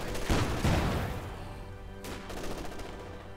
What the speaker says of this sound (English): Puma once more ready for the fight. And there you go, firing on the machine gun.